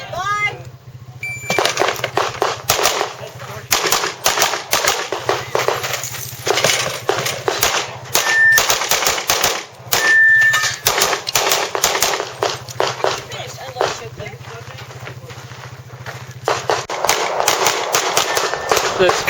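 Pistol gunfire on a speed shoot stage of the Doubletap Championship, a rapid string of loud, sharp shots fired in quick bursts with brief pauses between, over outdoor range noise, with a voice briefly heard.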